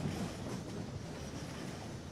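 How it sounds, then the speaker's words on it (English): A model train running on a layout in the simulation game Rolling Line, giving a steady low rolling rumble with soft rail clatter at a moderate distance. "Here's the second train going out."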